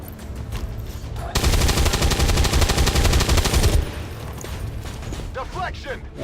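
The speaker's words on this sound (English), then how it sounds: "so we'll go ahead and fire a regular weapon" Automatic weapon fire from the XCOM video game erupts in a loud, rapid burst lasting a couple of seconds, set between quieter game effects, with someone talking over parts of it.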